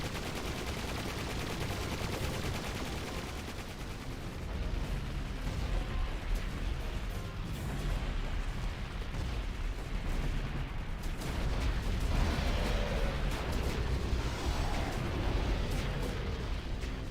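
Full-scale attack in Final Fantasy X-2: a long, dense, continuous barrage of gunfire and booming artillery blasts, loud and chaotic throughout, swelling slightly toward the middle.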